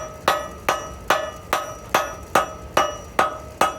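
Hammer striking hot steel to forge-weld a cable knife: nine sharp, ringing metallic blows at a steady, even rhythm, loud and close with no talk.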